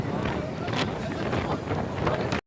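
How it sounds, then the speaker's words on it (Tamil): Strong wind buffets the microphone outdoors with a constant loud broadband roar for the whole stretch, then cuts off abruptly at the very end. "அவ்வளோ காத்து அடிக்குது."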